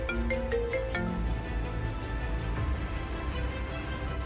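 Telephone at a hospital emergency dispatch centre rings with a rapid series of electronic tones at the start, then fades into a low room rumble.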